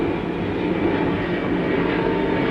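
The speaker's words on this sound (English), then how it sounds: "That plane sounds low, doesn't it?" A low-flying plane passes overhead at night near woods, a steady, loud broadband roar that holds evenly throughout without pause.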